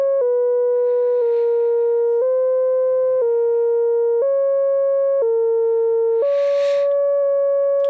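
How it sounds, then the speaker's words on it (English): A Xils 4 synthesizer holds a single C note whose pitch jumps to a new value about every second, a clean steady tone stepping up and down, with faint noisy bursts in places and no voice. "So now every second, the pitch of this C that I'm going to play is not going to be C."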